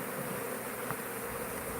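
Bees buzz in a steady, unbroken drone throughout, a close and fairly loud swarm hum with no speech over it.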